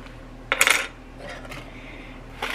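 Mica powder and fragrance being stirred into a homemade gift mixture, with a sharp clinking burst near the start, a softer scrape after, and another brief clink at the end.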